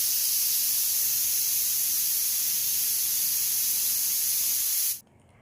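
A pressure cooker holding jackfruit curry on a medium flame vents steam in a loud, steady hiss that runs unbroken for about five seconds and then cuts off abruptly.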